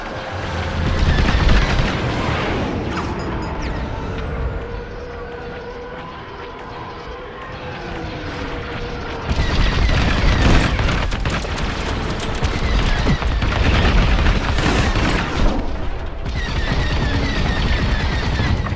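Rapid blaster fire from starfighters in a Star Wars: Squadrons dogfight, loud dense bursts and booming explosions over engine roar, continuing steadily throughout with a brief lull midway.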